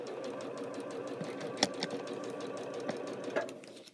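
A sewing machine stitching half square triangle papers runs with a continuous fast whir, joined by a few sharp clicks and a clunk as the thread is cut and the needle rises, close and fairly quiet.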